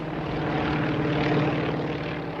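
Propeller engines of dive bombers drone overhead in a steady, continuous low roar that holds even throughout, with no talk.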